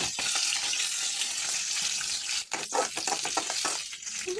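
Green chillies sizzle in hot oil already crackling with cumin, mustard seeds and curry leaves, a steady loud frying hiss with a burst of sharper pops and spatters toward the end; no one speaks.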